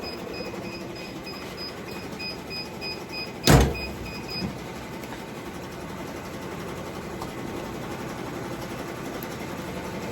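An embroidery machine runs steadily in a workshop, its mechanical hum and whir continuous and even, broken once by a sharp, loud clunk partway through.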